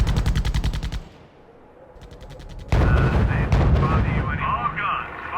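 Gunfire and artillery in the R.U.S.E. strategy game's Battle of the Bulge, rapid loud bursts of fire, a lull, then heavy booming barrages with a radio-style voice speaking over the battle.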